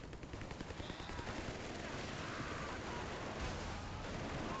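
Rumbling artillery and gunfire fill a Company of Heroes 3 battle, with dense continuous booms and rattling shots blending into a steady, roaring wash of explosions.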